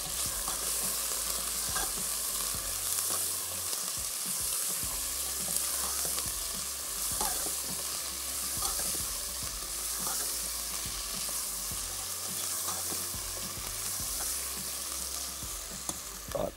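Chicken pieces fry with whole garam masala and cumin seeds in a pan, a steady close sizzle with occasional stirring scrapes and clatter throughout, no voices.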